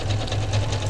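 A sewing machine stitching a braided rug, its motor running with a fast, steady mechanical hum and rapid needle chatter, loud and close for a brief burst without speech.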